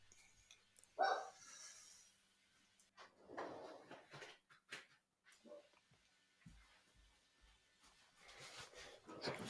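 A stepdaughter's pet dog barks a few times indoors at moderate distance, in short separate bursts with quiet gaps and some room shuffling between them.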